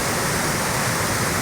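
Steady broadband rush of a small village waterfall used for bathing, loud and close, an unbroken wash of falling water with no talking.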